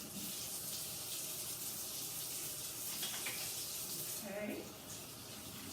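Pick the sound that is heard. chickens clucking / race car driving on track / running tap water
running tap water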